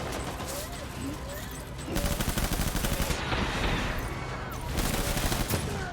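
Rapid gunfire bursts and a grenade blast in the video game Death Stranding, loud, dense automatic shots in repeated volleys with someone talking excitedly over the combat.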